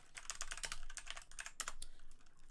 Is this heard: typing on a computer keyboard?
yes